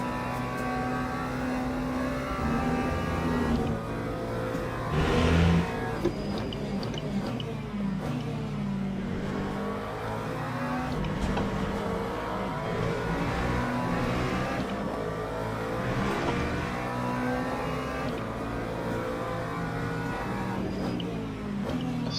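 McLaren race car in the Le Mans Ultimate racing game at Le Mans: an engine repeatedly revs up and shifts through gears, with rising and falling pitch sweeps and brief lifts, a continuous mid-loud drone throughout.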